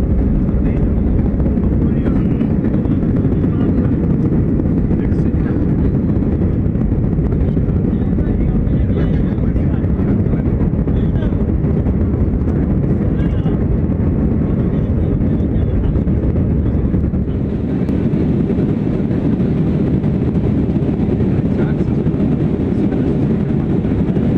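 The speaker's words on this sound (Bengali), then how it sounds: "ফ্লাইট এখন স্টার্ট করলো আর কিছুক্ষণের মধ্যেই টেক অফ করবে" Steady loud roar of an airliner's engines running up on the ground before takeoff, heard from inside the cabin as a continuous broadband drone with a slight shift near the end.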